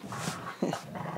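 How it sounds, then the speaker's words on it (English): Dogs at play growl steadily, low rumbling sounds close by with a couple of sharper snarling bursts, continuing without pause. "I hope you can listen to growling for a while."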